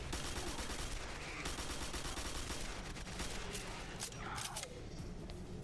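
Quake 4 gunfire, a fast regular chatter of automatic shots hammering continuously at a fairly low level, with a brief mechanical clatter toward the end.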